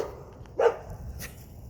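A dog gives a single short bark at a passing cyclist, close by and moderately loud, followed by faint movement noises against a quiet outdoor background.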